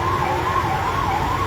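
An ambulance siren wails in a continuous rising and falling tone, loud and close, stuck in a traffic jam on a road in Kashmir with road noise beneath.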